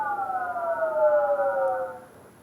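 Data sonification tone with layered harmonic partials, a steady synthetic drone gliding smoothly downward in pitch over about two seconds before fading out.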